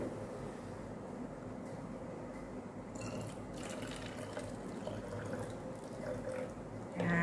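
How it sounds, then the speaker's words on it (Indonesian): Water poured from a glass into a bottle, a soft continuous trickle and gurgle of liquid filling the container, fairly quiet and close, ending with a brief louder splash or clink. "bagaimana kalau air di gelas kita pindahkan ke dalam botol?"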